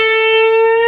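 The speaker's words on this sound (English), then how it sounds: "take the 10th fret of the 2nd string and bend that up a half step" A single sustained electric guitar note bent up a half step on the second string at the tenth fret, from the opening riff of a song, ringing clean and steady for about a second with no talking.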